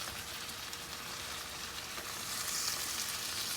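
Salmon sizzles in a hot frying pan, a steady, close crackling hiss that runs unbroken throughout and swells slightly toward the end.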